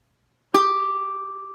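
A single plucked ukulele G string rings out clearly after a moment of silence, a bright sustained note slowly fading.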